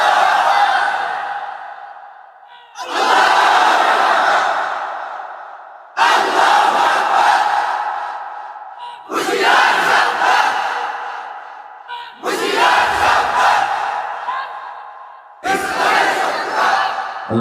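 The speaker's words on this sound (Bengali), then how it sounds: "জোরে জোরে তাকবীর দেন।" A large crowd at an outdoor Islamic religious gathering loudly shouts the takbir in unison, six powerful chanted bursts repeating every few seconds with short gaps between them.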